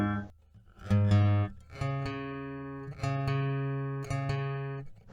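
Guitar strings are plucked one at a time during tuning, a fifth-fret note matched against the next open string, ringing out in a slow, repeated pattern, quiet and close with pauses between.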